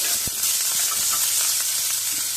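Asafoetida dropped into hot oil for a bitter gourd curry gives a steady close hiss and sizzle with a faint crackle, lasting the whole short moment with no voices over it.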